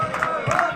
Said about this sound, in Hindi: इतना यहाँ पे बहुत ज़्यादा भीड़ हो जाता है दोस्तों